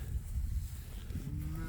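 Low mooing from cattle on a farm, a short deep call heard alone at moderate distance against quiet outdoor background.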